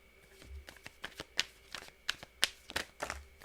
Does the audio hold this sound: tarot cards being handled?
yes